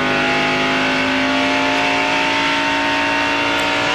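A NASCAR Busch Series race car rolls through the center of a turn at Homestead-Miami Speedway, its engine a steady, loud drone with strong harmonic hum that holds throughout without breaks.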